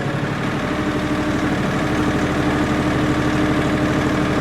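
A tractor engine idles steadily in four-wheel drive through tight turns, a close, loud, even diesel hum with a low vibrating drone and no voices over it.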